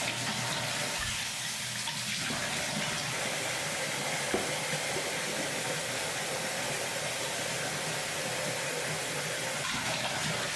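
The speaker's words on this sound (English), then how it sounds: "I'm gonna wash my face first." Water runs steadily from a tap into a sink during a face wash, a dense, continuous splashing hiss close by with small shifts as hands move through the stream.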